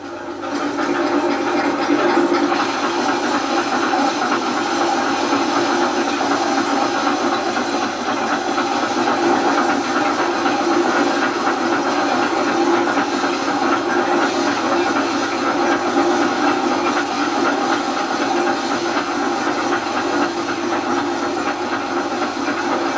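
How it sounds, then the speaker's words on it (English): Grain elevator in a traditional Irish corn mill, a belt carrying a series of scoops up toward the millstones, giving a steady, loud, continuous mechanical rumble and hiss with faint rhythmic clatter throughout, no voices. "The elevator consists of a series of scoops on a belt."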